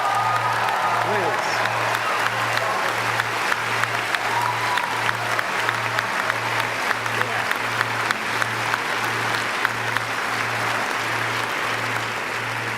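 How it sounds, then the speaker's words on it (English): A graduation audience applauds the class of 2017 in a large hall, steady dense clapping with a constant buzz of crowd noise, while a speaker talks briefly over it and a regular low hum pulses underneath. "give yourself a round of applause"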